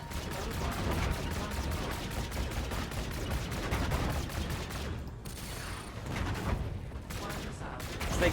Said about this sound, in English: These shitty little guns are really annoying.